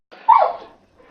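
A pet dog gives a single short, muffled woof somewhere in the room, brief and moderately loud, followed by faint quiet.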